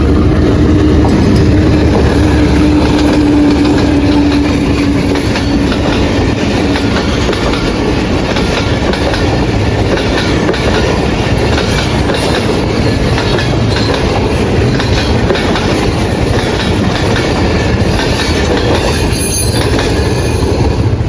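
A train rolls loudly past a closed level crossing, wheels clattering over the rails with a long squeal near the start, a continuous close roar lasting the full stretch.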